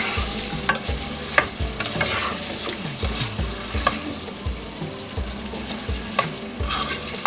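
Hot dogs fry in oil in a pan, crackling and sizzling steadily up close with repeated scraping stir strokes, loud and continuous with no talk.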